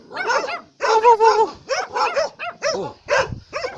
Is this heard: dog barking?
yes